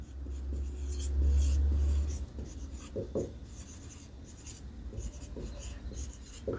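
Marker or chalk writing on a board during a chemistry lesson, with scattered soft scratchy strokes and taps across the stretch under a low hum.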